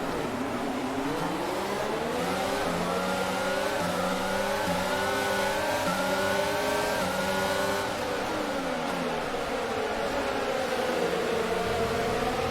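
Several F1 race cars from the F1 22 game accelerate together off the grid at a race start, a dense layered engine roar with many rising and shifting harmonic whines, loud and continuous throughout.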